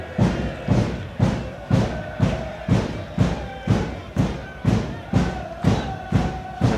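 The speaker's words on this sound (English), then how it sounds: "they bang those drums, and they will do so all day long" Derry City supporters pound drums in a football stadium, a steady loud thumping beat roughly twice per second throughout, with crowd noise underneath.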